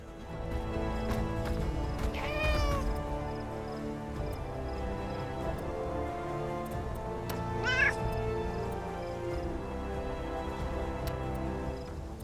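A cat in the video game Titan Quest II meows twice, a few seconds apart, in distinct rising-and-falling cries over a continuous layered game soundtrack.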